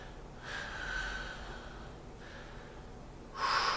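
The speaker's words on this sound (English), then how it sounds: "Just breathing." Close nasal breathing during a yoga pose in a men's flow session: a long audible inhale, a softer breath after, then a sharp loud intake at the end, with no talk.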